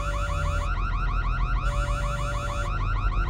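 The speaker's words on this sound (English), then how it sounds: "The alarm again." A looping electronic alarm from the video game Asemblance wails steadily, a warbling siren tone repeating in fast rising sweeps, loud and continuous with no voices.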